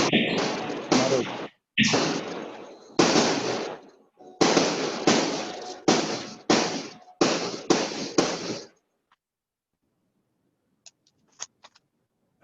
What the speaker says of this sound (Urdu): فائرنگ شروع ہو گئی ہے